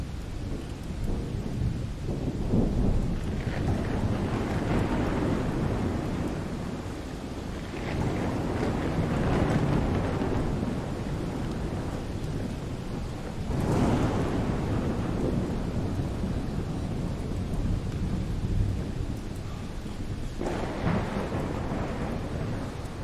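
Rolling thunder and steady heavy rain fill a stormy scene in the video game The Solus Project, with deep rumbling swells around 3, 9, 14 and 20 seconds over a constant wash of rain and wind.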